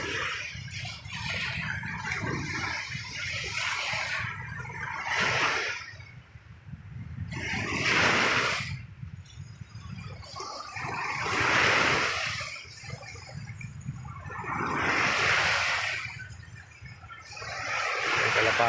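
Surf washes onto a beach at Al Khobar in big rolling surges, swelling and fading every few seconds, with swimmers splashing and voices chatting and calling faintly underneath.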